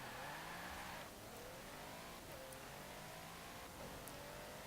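A 2009 Mercedes-Benz SL 65 AMG Black Series accelerating hard in Forza Horizon 4, its engine note climbing steadily through several gear changes with brief dips between shifts, a continuous loud roar with no talk.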